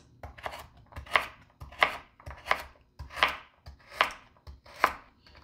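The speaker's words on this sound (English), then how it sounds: "And then we are just going to chop up our carrots." A knife chops carrots on a cutting board in about seven evenly spaced, sharp thuds, each cut ringing briefly, close and clear with no talking.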